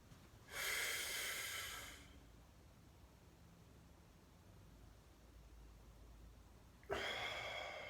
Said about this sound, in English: And another deep breath in